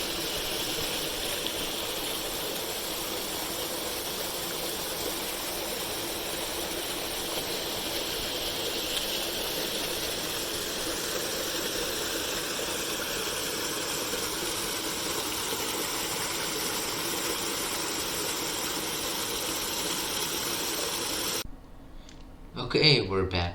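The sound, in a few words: car engine running while driving on the road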